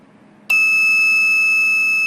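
A battery protection tester beeps after its wires are shorted: one sudden, loud, sustained high electronic tone that starts abruptly and holds steady.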